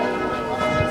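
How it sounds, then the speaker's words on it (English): Church bells ring in a steady, sustained resonant wash, with overlapping tones and a loud, even level throughout the brief moment. "The church just starts playing bells every time you mention his name."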